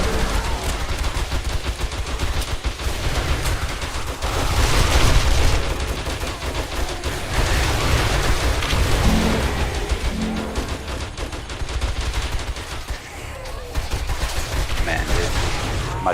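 Sustained machine gun fire from an M60 or G36 in 7 Days to Die with the Rebirth mod, loud and continuous with dense overlapping bursts for the whole stretch, a voice speaking underneath.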